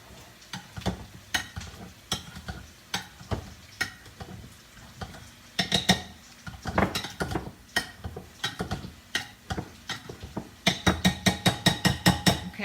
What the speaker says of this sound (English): I'm going to put them in my bowl, give them a light crushing.